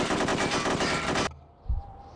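Rapid automatic gunfire in Hitman: Codename 47 rattles loudly for over a second, then cuts off abruptly, followed by a single low thud.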